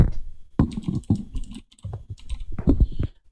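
Keys clatter on a computer keyboard as a local IP address is entered into a server address field, a close series of quick uneven taps in bursts with short pauses between them.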